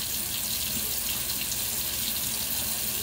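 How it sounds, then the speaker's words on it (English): Water runs steadily from a tap into a sink, a constant broadband splashing hiss that stays even and close throughout with no speech. "water just running"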